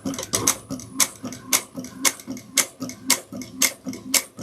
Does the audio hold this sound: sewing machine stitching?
yes